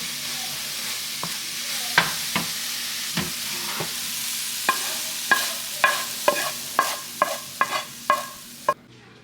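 Spinach cooks down in a pan with a low steady sizzle while a utensil stirs and scrapes, producing a series of sharp clacks that grow quicker and more frequent toward the end, close and fairly loud.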